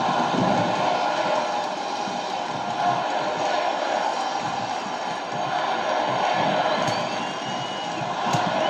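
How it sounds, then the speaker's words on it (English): Wrestling arena crowd at the Rockford Metro Center roaring and chanting for The Undertaker, a dense, steady wall of massed voices filling the whole clip at close range. "these fans here in the Rockford Metro Center chanting for The Undertaker"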